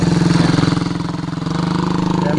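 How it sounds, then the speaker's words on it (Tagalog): Several motorcycles idle and rev together in a rural farm setting, producing a steady, loud, pulsing engine drone throughout, with faint voices mixed in underneath. "Kaya maraming motor dito."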